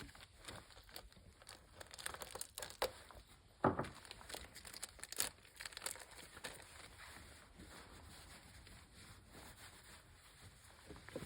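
Paper and plastic packaging being crinkled and torn open by hand to get at an engine gasket for a 440 Mopar V8 rebuild, close, irregular rustles and crackles with a sharper rip partway through.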